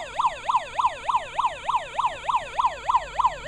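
A musical birthday card plays a police siren, a rapid, steady wail rising and falling about three times a second, close and clear with no voices.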